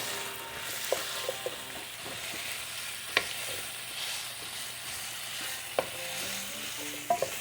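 Broccoli stalks and garlic cloves fry in a pan with a continuous sizzle, punctuated by sharp clinks and scrapes of stirring at irregular intervals, close up and without speech.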